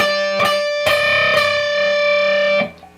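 A loud distorted electric guitar rings out a sustained, dissonant high interval around the 11th fret of the high E string, struck twice before holding, then cut off near the end.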